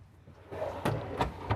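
A deep cabinet drawer in a Newmar Ventana motorhome slides and knocks shut, giving three sharp wooden thuds spaced about a third of a second apart, close and fairly loud over faint room hum.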